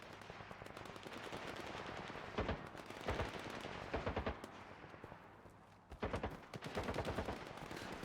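Gunfire in the video game STALKER 2, heard as quick bursts of automatic shots in clusters against a dense, rumbling background, fairly distant and with no talking.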